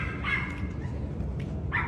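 A dog barks somewhere at a hotel resort, two short muffled barks at a distance over a low steady background hum.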